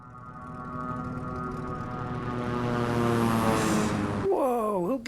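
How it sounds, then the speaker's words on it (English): A propeller airplane engine in Microsoft Flight Simulator drones steadily with a harmonic buzz that swells louder as it passes close, then cuts off sharply and gives way to a warbling tone. "Oh my god, there's a plane."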